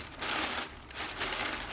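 Plastic bag of Auto Finesse microfiber towels crinkling in bursts as it is handled, close and fairly loud, with short pauses between rustles.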